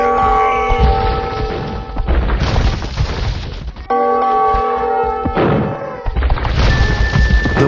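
Age of Empires town center collapsing under attack: a game soundtrack with bell-like tones plays while several heavy crashes and booms hit in bursts, loud and close, with no talk.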